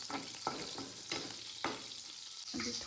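Chilies and potatoes fry in a pan with a soft sizzle, broken by several scraping stirs at a steady pace, moderately quiet and close.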